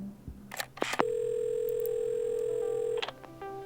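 A telephone dial tone in the video game Assemble with Care: after a few clicks and handling sounds, a steady sustained tone holds for about two seconds, then cuts off into a short run of quieter beeps.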